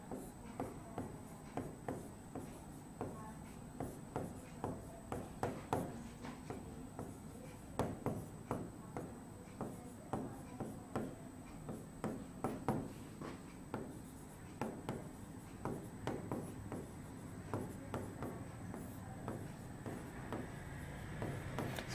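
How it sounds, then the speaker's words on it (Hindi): Pen or chalk writing by hand on a board during a chemistry lesson, a steady run of short scratchy strokes in quick irregular bursts, close and fairly quiet, with no talking. "मैं लिख देता हूं यहां पर"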